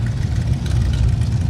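A car engine idles steadily at an evening custom car cruise, a loud continuous low rumble close by that fills the whole moment without a break.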